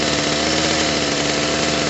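A Redmax GZ23N edger engine idles steadily and close up, a continuous even drone with a faint rhythmic pulse and no talking, running after carburetor and fuel line repair.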